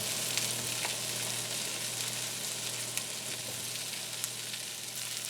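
Vegetables, all except mushrooms, sizzle in melted butter in a pan for a frittata, a steady, fairly quiet crackling hiss with occasional sharper pops and no voices.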